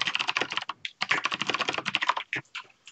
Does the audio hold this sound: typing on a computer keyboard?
yes